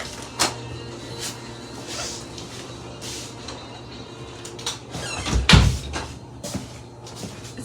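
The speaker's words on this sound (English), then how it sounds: "Close your door." A room door swings shut with a single fairly loud thud and brief rattle in the middle, against a quiet indoor background with faint earlier knocks.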